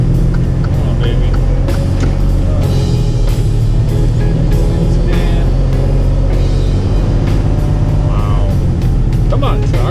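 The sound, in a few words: truck engine pulling on a slippery road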